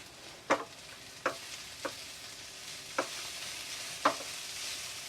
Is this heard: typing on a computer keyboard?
no